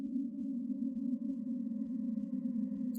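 A steady low, droning tone hums without a break from a compy (Compsognathus) in the video game Carnivores+, faint and continuous, with a brief louder burst at the very end.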